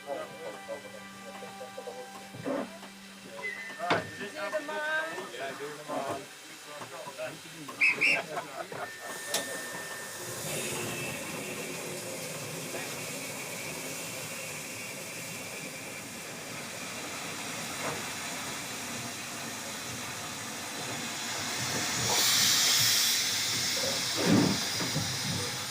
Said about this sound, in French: le Jacobite Steam Train, un train à vapeur mis en service il y a plus de 30 ans